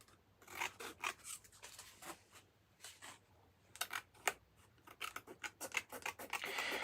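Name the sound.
scissors trimming card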